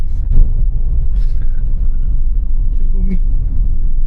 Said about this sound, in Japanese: これはペルーのゴミ収集車。